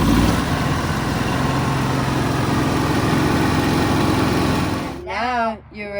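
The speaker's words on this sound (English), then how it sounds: "we started the generator, and it worked just dandy" An RV generator runs steadily after a starter solenoid repair, with a loud, close, even engine drone through most of the moment, then a person starts speaking as the hum continues beneath.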